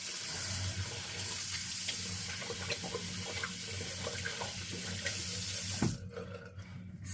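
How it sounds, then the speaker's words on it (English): A bathroom sink tap runs in a steady hiss while hands are washed beneath it, close and continuous, before the water shuts off near the end and a few quieter handling sounds follow. "I'm gonna have to wash my hands"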